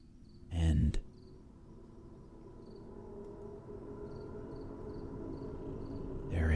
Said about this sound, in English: there is a strange buzzing sound